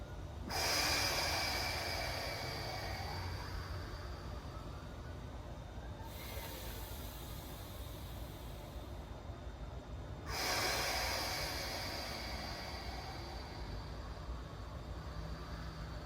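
Long, forceful nasal breaths during a yin yoga warm-up: one sustained exhale, then a second strong breath after a short gap, loud and close, with no talking.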